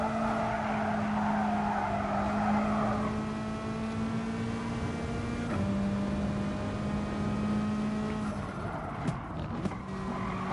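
Front-wheel-drive race car in Gran Turismo braking and cornering at the Alsace circuit, with a loud steady engine tone that drops in pitch under braking and sustained tire squeal and skidding as it plows into the turn.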